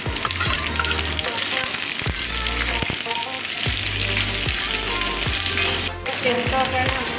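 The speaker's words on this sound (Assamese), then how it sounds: "পিঁয়াজখিনি বেছি ফ্ৰাই কৰিব নালাগে, অলপ ফ্ৰাই কৰিলে হ'ব" Onions sizzle steadily in a hot pan for a masala dosa, a continuous loud frying hiss broken by repeated low knocks and scrapes of a spatula stirring, with no talking.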